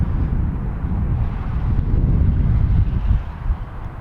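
Steady wind buffets the microphone with a loud low roar at an RC flying field where an E-flite F-16 70mm jet is flown, continuous with slight gusting and no talk.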